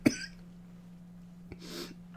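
A person getting over a cold coughs once sharply, then again more breathily, close to the microphone against a low steady hum.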